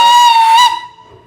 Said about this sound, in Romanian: Ce s-a auzit este o mocăniță care tocmai se pregătește să parcheze.